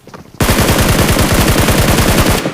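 Sustained automatic gunfire from a video game gun, a rapid, loud burst of evenly spaced shots lasting about two seconds after a brief quiet lead-in, with no talking.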